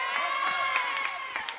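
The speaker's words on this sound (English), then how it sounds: "cheers coming out from the Furia bench as they just try and cheer their team on for a good play" Cheering and shouting from the Furia Futsal Club bench at a futsal match, a steady wash of excited voices with whoops and calls rising over a lively crowd.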